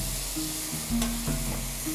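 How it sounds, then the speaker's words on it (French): Hot chicken stock is poured onto pearled Camargue rice in a pan for a tomato and chorizo risotto, giving a steady close sizzle with stirring scrapes and brief bubbling bursts. "Et on va incorporer du bouillon de volaille qui sera très chaud."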